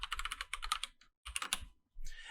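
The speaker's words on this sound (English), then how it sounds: "type the username you need for your account" Fast, dense typing on a computer keyboard while entering an account username, close and crisp, coming in bursts of rapid keystrokes separated by short pauses, with no voices.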